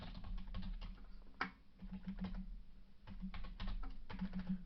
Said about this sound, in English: Now if I can hit the freaking keys